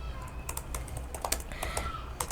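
Quick clicking keystrokes on a computer keyboard while a PHP project is being written, irregular bursts of taps at close range with no talking.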